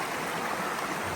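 A cool stream flows under a trail bridge on the Appalachian Trail, giving a steady, soft rush and burble of water with no voices.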